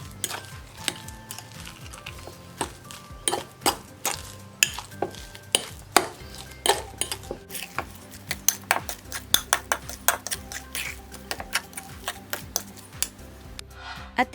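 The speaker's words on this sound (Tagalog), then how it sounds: "I-mix lang natin ang parsley at ang potato" Parsley and potato sticks tossed together in a bowl with a utensil, giving a steady run of light scraping, rustling and clinking strokes, close and fairly busy, with no talking.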